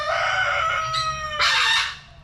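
A pet rooster crows on a back porch, two drawn-out, harmonic calls close by, the second louder and rougher, then trailing off, with no talk.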